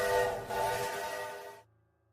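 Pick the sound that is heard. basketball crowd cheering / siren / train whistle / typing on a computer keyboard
train whistle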